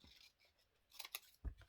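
Scissors snip through paper in a craft project, making a few quiet, close cuts with light crisp clicks and one soft thump near the end.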